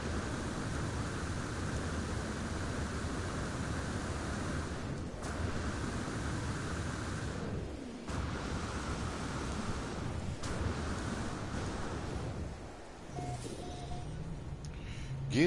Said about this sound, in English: Give me shelter for the storm.